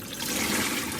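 Cold water gushes from a tap over cooked spaghetti in a colander, making a steady, close rush of running, splashing water that swells slightly after the start and continues alone.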